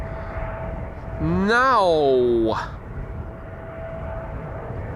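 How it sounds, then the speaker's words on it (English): Jet airliners taxiing next to the center runway at Amsterdam Schiphol Airport, including Embraer E2, Embraer 175 and Boeing 737 types, with a loud rising engine whine that swells then fades over a steady outdoor background; someone speaks briefly. "4 airplanes are coming this way that are taxiing next to the center runway"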